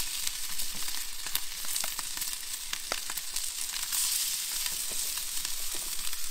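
Fish cakes frying in oil on a plancha give a steady close sizzle with scattered pops and crackles throughout, no voices.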